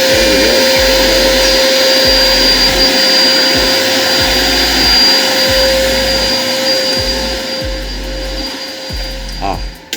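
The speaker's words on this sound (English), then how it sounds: "So here we have CNC cutting." A CNC machine cuts ant nests with a loud, steady high-pitched whine over a rhythmic low thumping that repeats about every second, and the whine eases off near the end.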